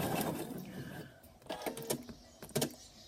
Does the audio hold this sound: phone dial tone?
no